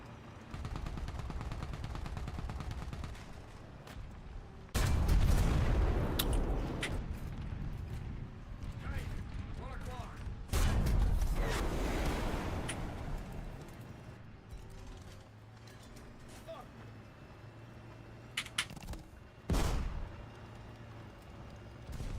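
Bursts of gunfire aimed at a Su-27 jet in a War Thunder air battle, two heavy loud volleys around a steady engine drone with a few sharper shots later.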